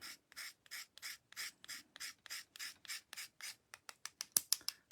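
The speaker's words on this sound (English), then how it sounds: "I'm going to scrape a little tiny bit off." A mango-coloured pastel stick is scraped in a quick regular series of about twenty short dry rasping strokes, close and fairly quiet, speeding up toward the end.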